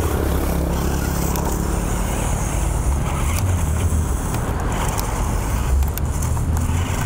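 Small JJRC Q45 quadcopter drone with underpowered motors straining to climb, a steady broadband whir and hiss running continuously without pause, loud and close, with some low rumble underneath.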